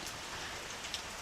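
Rain falling in southeast Queensland, a steady broadband hiss of drops on surfaces with a few sharper individual drop taps, even and continuous.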